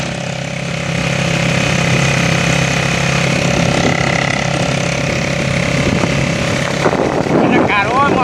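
A three-wheeled motor taxi rumbles steadily along through Phonthong town, its small engine drone loud and continuous with faint voices mixed in and a brief revving rise near the end.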